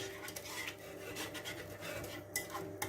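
A whisk scraping and stirring beef bourguignon stew in a pot, a soft, continuous rasping rub with occasional brighter metallic clicks against the pot, close and fairly quiet.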